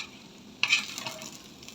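Raw banana (ethakka) pieces frying in a pan as they are stirred: a steady soft sizzle, then a single sharp scrape of the stirring utensil followed by continued crackling frying, close and quiet, with no voices.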